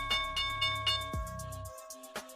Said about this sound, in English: Here's the opening bell.